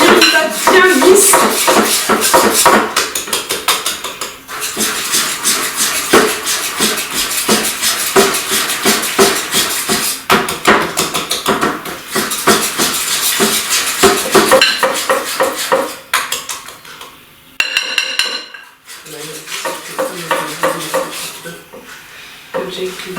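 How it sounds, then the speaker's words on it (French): Chestnut and hazelnut muffin batter being mixed in a bowl, a utensil scraping and clinking against the bowl in quick repeated strokes, loud and close, with a brief pause near the end. "on mélange le tout pour obtenir une pâte bien lisse"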